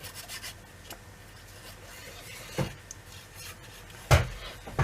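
Russian hamsters scratching and rubbing at a steady low level, with two sharper taps standing out near the end.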